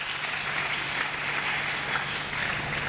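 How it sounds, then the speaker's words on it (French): A church congregation applauding and cheering for the King of Kings during a sermon, with dense, continuous clapping that fills the entire moment evenly. "Acclamons très fort pour le roi de roi"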